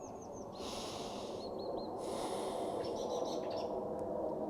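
Slow, deep breaths drawn and released during a beginner fascial stretching exercise, steady airy rushes with a soft hissing texture, close and fairly quiet, with no talking.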